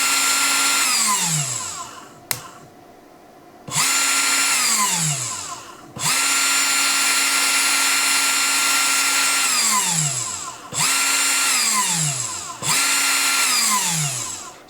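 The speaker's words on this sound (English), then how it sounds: "it does appear that a lot of the noise does seem to be generated by this collet" A Woodpecker 3018 CNC spindle runs with its collet fitted, a loud, close, high whine that spins up and winds down repeatedly, each stop ending in a falling pitch, with brief silent gaps between runs.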